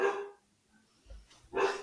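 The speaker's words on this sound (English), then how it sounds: "I thought that was Randy's dog." A dog barks twice close by, two sharp loud barks with a short quiet gap between them, standing alone without talk.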